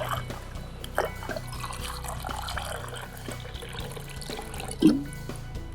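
An Insta360 GO 3 micro action camera submerged underwater, giving a muffled, continuous liquid wash with gentle trickling and sloshing, plus a brief louder splash-like burst near the end, with no voices.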